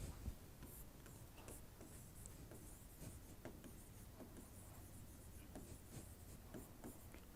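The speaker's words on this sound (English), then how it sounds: "Let me write it for you." Pen or marker writing on a board during a classroom lecture, a continuous faint scratching with small ticking strokes over a noisy room background, no talking.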